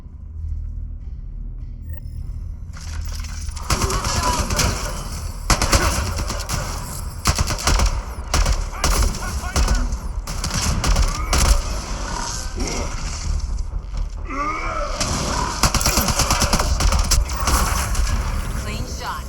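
Heavy automatic gunfire from the video game Mass Effect Andromeda rattles in dense bursts after a quiet opening, loud and sustained with shots, impacts and mechanical clatter throughout.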